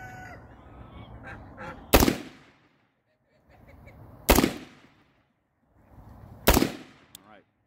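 Three rifle shots fired down range at an outdoor range, each a loud sharp crack with a brief decaying echo, spaced about two seconds apart, with soft handling noises between them.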